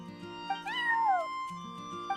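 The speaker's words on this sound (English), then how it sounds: "I'm sorry, that's my neighbor's cat." The cat Charcoal meows in the video game Genshin Impact, one drawn-out falling meow set against soft background music and small chimes, fairly quiet and close, with no voices.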